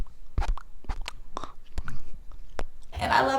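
A voice imitates ASMR mouth sounds close to a microphone, with a string of wet clicks, smacks and crunchy chewing-like bursts in an uneven rhythm, ending in a longer hissy, crackling rush.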